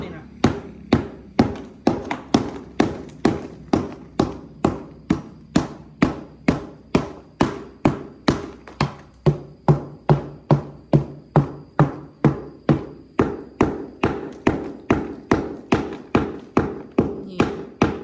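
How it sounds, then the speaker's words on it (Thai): Steady, loud hammer knocks chip dried cement loose, striking about twice a second in an unbroken rhythm for the whole stretch, each blow a sharp close-up crack with a short ringing tail, no voices heard. "เคาะให้ปูนออก"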